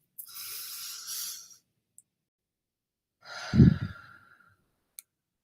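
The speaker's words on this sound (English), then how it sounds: "we're going to start by taking a couple of deep breaths" Two slow deep breaths, a long airy inhale followed later by a heavy sighing exhale with a low rumble, close and fairly loud, separated by near silence.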